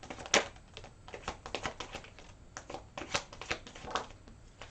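Tarot cards shuffled and handled during a Gemini reading, a steady run of crisp papery riffles and flicks with a few sharper slaps, close and fairly quiet, with no talking.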